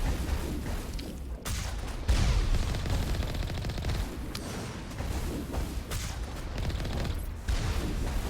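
Rockets and gunfire in the video game Mass Effect Legendary Edition: continuous rapid bursts of shots punctuated by heavy booming explosions, loud and dense with no pause throughout.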